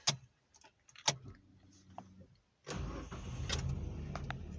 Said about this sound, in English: we're going to start the car